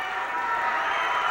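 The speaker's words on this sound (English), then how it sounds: "Listen to this crowd. Oh, this crowd is going crazy." A wrestling arena crowd roars and cheers in a dense, sustained wash of noise that stays loud across the short moment.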